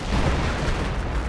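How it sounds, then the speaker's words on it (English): Artillery shells pounding a machine-gun position in Company of Heroes, a dense, continuous low rumble of booms and blasts with no clear gaps, loud and close throughout. "Artillery probably on this MG."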